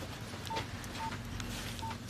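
A mobile phone keypad gives three short, faint tones, spaced about half a second apart, over a low steady room hum while a contact is being shared.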